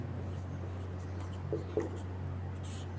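Quiet scratching strokes of writing on a classroom board, a few short marks under a steady low hum, with a teacher speaking softly nearby.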